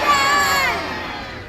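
At a seal show, a crowd of audience voices yells a phrase loudly together in unison, with high children's voices standing out, then the shout trails off and fades.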